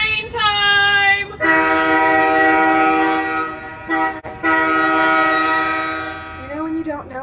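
A train sounds its loud horn nearby in long sustained blasts with a short break between them, then fades to a lower rumble.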